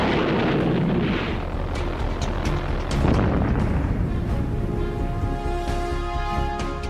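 A V1 flying bomb, the 1944 Doodlebug fired at London, a loud rough droning roar with a deep rumbling burst near the start, fading into sustained engine noise and hum.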